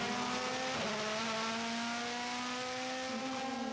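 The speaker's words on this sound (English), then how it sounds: "he comes diving down hard on the brakes from 240 kilometers an hour into the Tarzan corner" DTM race car at Zandvoort braking hard from high speed into the banked Tarzan corner, engine tone held steady then dropping in pitch, heard alone at moderate distance.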